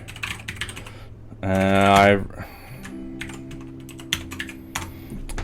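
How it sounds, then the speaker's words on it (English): Rapid clicking of computer keys, steady and close, with a brief spoken word and a short tonal burst partway through. "keep typing in the old address"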